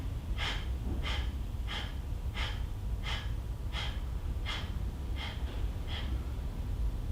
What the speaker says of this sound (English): quickly, with short, sharp breaths, release it without inhaling again